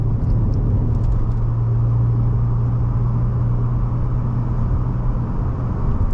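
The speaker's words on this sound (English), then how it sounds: "I'm just driving." A car drives along a road, its engine a steady low hum with constant road and tyre noise heard from inside the cabin. No one talks.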